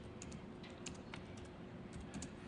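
Scattered keystrokes tap on a computer keyboard at a security conference demo, quiet and uneven, beneath a low steady room hum.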